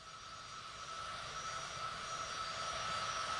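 A business jet's engine drones steadily in a flight simulator game, a faint, even whine and rumble that swells slightly and holds.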